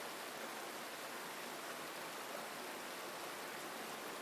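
Steady, continuous rush of an underground river flowing through dark, damp cave passages toward a subterranean lake in the 3DS game Crimson Shroud, a faint, even wash of water with no voices.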